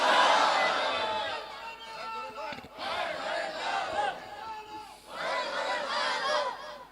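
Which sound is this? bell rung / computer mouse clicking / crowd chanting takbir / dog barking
crowd chanting takbir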